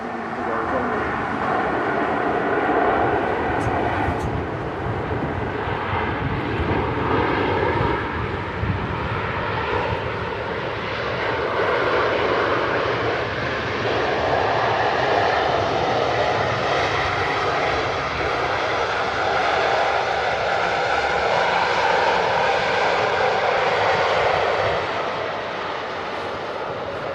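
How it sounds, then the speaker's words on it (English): An Emirates A380 airliner lands at Manchester Airport with a loud, sustained roar of jet engines and a broad rushing rumble that holds steady and slowly swells and fades, with people talking over it. "The Emirates A380 touching down here at Manchester Airport."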